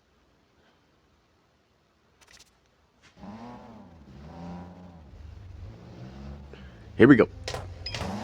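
A race car in the video game NFS No Limits launches and accelerates, its engine note rising in repeated upward sweeps after silence and a spoken line, with a sharp burst near the end.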